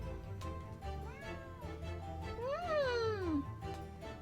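A cat meows in a long rising and falling cry, with shorter mewing sounds before it, heard over quiet background noise and a soft voice.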